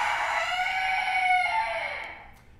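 A single chicken gives a long, drawn-out crowing call, clear and fairly close, rising then trailing off in a fading tail, with no speech around it.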